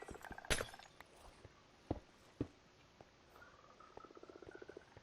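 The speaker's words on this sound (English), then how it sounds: "I have a bunch of frogs and stuff." Minecraft frogs in a player's hardcore world make soft, faint croaks and chirps, with a few sharper clicks scattered through and a run of quick repeated croaks near the end, no voices.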